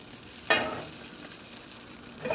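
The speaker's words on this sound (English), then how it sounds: "And this is going to get all over your floor sometimes, the stove, but that comes with popping amaranth." Amaranth seeds pop and sizzle in a hot pan on a stove, with a sharp burst of crackling near the start and faint scattered pops after.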